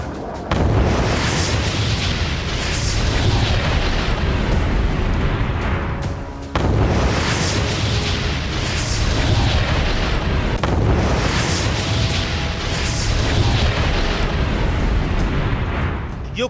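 Missile explosions from the Russia-Ukraine war roar as loud, continuous, dense blasts and rumbling booms, with a brief break partway through.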